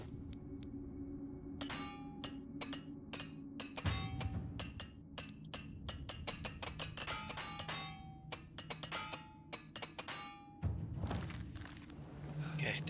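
Repair hammer in the video game Oblivion Remastered, giving a quick run of bright metallic clinks and taps in irregular bursts over a low background hum.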